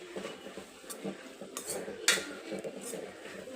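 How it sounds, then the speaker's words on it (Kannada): A spoon scrapes and clinks against a pan as grated coconut is stirred into a drumstick-leaf curry, with light scattered metallic taps and no talk. "ಕೊನೆಯಲ್ಲಿ ಸ್ವಲ್ಪ ಕಾಯಿ ತುರಿ ಹಾಕಿ ಒಂದು ಮಿಕ್ಸ್ ಕೊಟ್ಟು ಆಫ್ ಮಾಡಿಬಿಡೋಣ"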